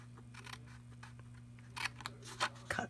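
Scissors snipping paper while making a gift card holder: a few quiet, crisp cuts, close up, in quick short bursts over a low steady hum.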